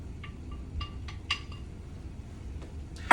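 Metal utensils clinking against a cooking pot as beef is added back in for a beef stew, with a few light scattered taps and a louder scrape and clatter at the end, no speech.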